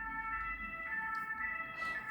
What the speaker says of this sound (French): on laisse passer la sirène